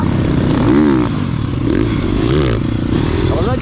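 An enduro motorcycle on an off-road trail, loud and close, accelerating with rising and falling engine pitch and repeated revs, plus some clatter of the bike over rough ground.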